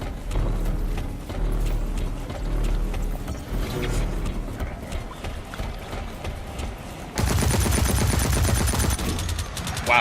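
Gunfire from the online shooter game Blacklight: Retribution: rapid automatic bursts and clicks under game noise, jumping to a dense, loud stretch of sustained firing near the end.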